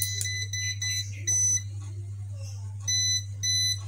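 AC voltage detector pen emitting sharp electronic beeps as it nears a live source, several short bursts and pauses over a steady low hum, with someone talking briefly.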